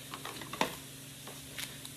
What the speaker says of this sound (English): while our chicken is searing in this pan and grilling in this pan